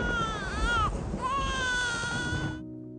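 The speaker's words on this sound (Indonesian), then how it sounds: "Sampai tiba-tiba anak Randip justru menangis kencang" A baby wails loudly and continuously at close range, its cry rising and falling in long strained bursts with a brief catch in the middle, ending in a sudden cutoff.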